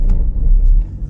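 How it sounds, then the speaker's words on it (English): Car engine lugging at low revs while driving, a heavy continuous low rumble with steady road noise throughout. "I'm like lugging the engine, bro."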